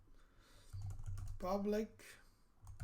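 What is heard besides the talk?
typing on a computer keyboard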